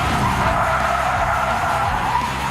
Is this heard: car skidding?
yes